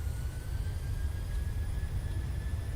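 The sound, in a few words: Boeing 737-700 jet takeoff roll in Microsoft Flight Simulator video game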